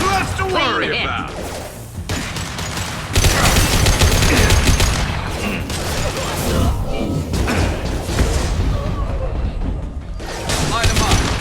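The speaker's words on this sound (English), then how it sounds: "I'll take the shot." Gunfire in the video game Mass Effect 2 bursts out in heavy volleys and thuds, loud and near, mixed with voices and shifting battle noise.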